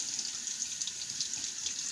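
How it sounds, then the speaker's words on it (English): Tap water runs steadily into a shaving lather bowl to soak a brush, a continuous bright hiss and splash with no pauses or voices. "Let me get some water to fill up here because I want to soak that brush"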